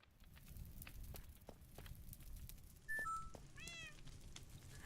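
A cat in Minecraft lets out a few short meows, the last a quick wavering one, fairly clear over a quiet background of soft clicks and faint rumble.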